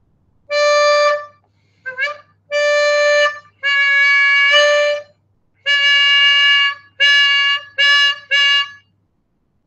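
A harmonica blows a series of sustained, reedy E-flat notes, loud and close, in bursts of varying length separated by short pauses, with a brief wavering note early on and no talk over them.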